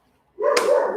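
A single close, loud dog bark breaks out abruptly after a moment of near silence, ringing on briefly with a whiny tail.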